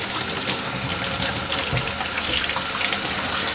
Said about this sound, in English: Wash it properly for 20 seconds under cold water